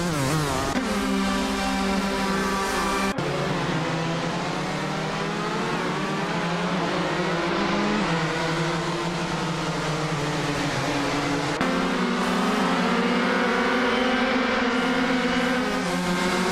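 Race cars in the racing game Nonstop Racing roar continuously at close range, engine pitch climbing and dropping through gear shifts with a couple of abrupt changes, no voices.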